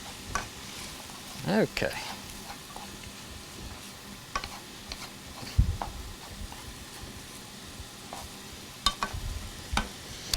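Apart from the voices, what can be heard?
stirring and frying onions in a pan for Mexican lasagna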